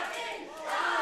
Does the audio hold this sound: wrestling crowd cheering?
yes